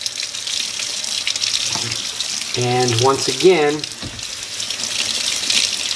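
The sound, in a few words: water poured onto polyester carpet sample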